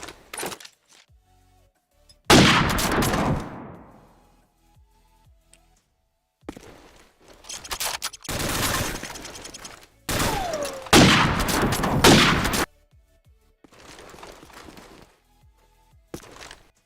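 Sniper rifle shots from Call of Duty 4: Modern Warfare in a 1v1 free-for-all esports match: a handful of loud, sharp gunshots, each followed by a decaying echo tail, spaced irregularly with quiet gaps between them.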